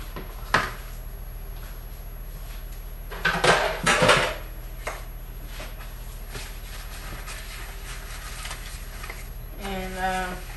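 Raw cashews dropped into a container in a kitchen, a brief close clatter of nuts against the vessel, with a sharper knock earlier and a short voice-like tone near the end.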